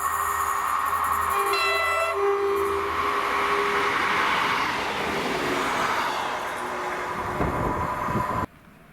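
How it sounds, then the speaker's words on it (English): A ScotRail class 158 diesel passenger unit runs past at Monifeith, its engine drone and rolling wheel rumble swelling loud and close, preceded by brief horn-like tones, before cutting off abruptly. "this is 2L93, the 2024 ScotRail service to Arborough from Dundee with"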